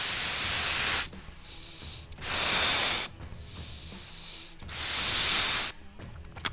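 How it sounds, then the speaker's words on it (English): A balloon being inflated, with long airy hissing rushes of air in steady repeated blows separated by brief pauses, fairly loud and close with no talking. "that's the sound of a balloon blowing up"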